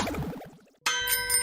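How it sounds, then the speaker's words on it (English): A halftime bell gives one clear ding that rings on with a bright, sustained tone, following a brief trailing voice-like sound that fades to near silence just before the strike. "that's the halftime bell"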